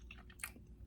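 Someone chewing a bite of homemade protein cookie, with a few soft, close crunchy bites in a quiet moment and no talking.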